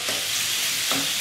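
Ground meat for spaghetti sauce browning in a hot pan, a steady close sizzle with two brief scraping stirs.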